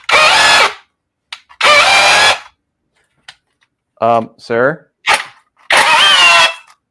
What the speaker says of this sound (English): Oh yeah, it hammers good, dude.